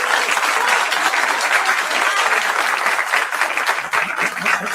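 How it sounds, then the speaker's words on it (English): An audience bursts into loud, dense applause in a hall, sustained clapping that dips briefly near the end before rising again. "save the applause till the end."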